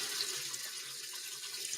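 A hot water tap runs in a steady, even hiss of flowing water, close and fairly quiet, with no voices.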